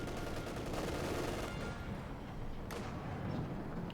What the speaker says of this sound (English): We've been hammered here by artillery fire there.